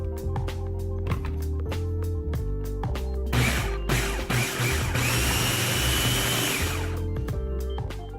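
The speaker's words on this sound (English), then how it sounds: "And then now you're going to blend everything together." A food processor whirs as it blends ingredients together, the motor running in pulsing bursts with a louder continuous grinding stretch in the middle, close and without talk.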